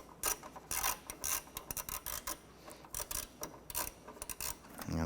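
A ratchet backs out a 7mm screw from the wiper motor of a Chevrolet S10 pickup, producing repeated close bursts of rapid clicking in uneven strokes separated by brief pauses.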